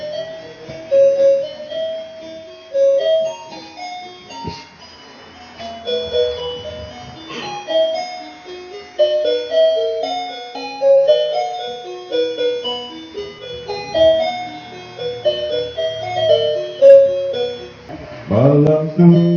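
A children's toy plays Silent Night as a thin, bright electronic chime melody. Steady single notes are close and clear, with a brief clatter near the end.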